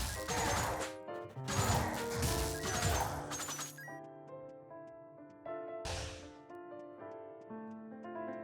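Airborne Slam attack impacts in the video game Wizard of Legend, a run of loud crashing smashes in quick bursts followed by a lone later hit, with ringing tonal effects in between.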